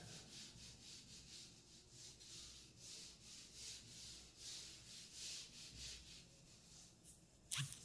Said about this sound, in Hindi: मैं इसको यहाँ से रब कर रहा हूँ।